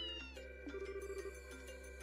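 A game cat named Antoine gives a few clear, tonal meows over a steady background hum and music, faint and alone without speech.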